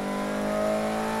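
Car engine revving and accelerating with a rare engine in Need for Speed Heat, a steady mid-pitched drone that holds and climbs slightly across one short, moderately loud burst with no talk.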